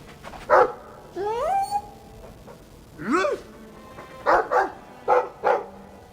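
A dog in the video game Dragon Age 2 barks and whimpers nearby: a few short barks, two rising whines, then a quick run of sharp yips.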